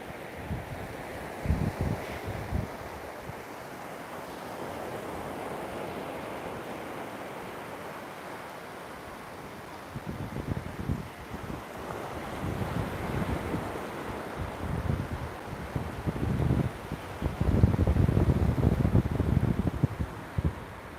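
Ocean surf and gusting wind heard from out in the water, a constant roar with wind buffeting the microphone and waves surging louder in bursts toward the end.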